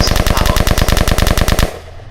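Rapid automatic gunfire in a roleplay video game as a player shoots out a facility's light system power, a loud, close, evenly spaced burst of about twenty shots that stops abruptly.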